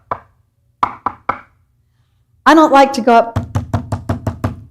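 Knuckles rap on a door up close: a single knock, then a quick pair of raps, then a later run of about six steady knocks that continues while a person talks.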